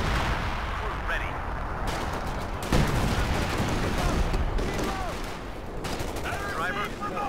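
Artillery and gunfire roar through a Company of Heroes 2 video game battle: a dense, loud barrage of overlapping booms and rapid shots that runs continuously, with a few heavier blasts standing out.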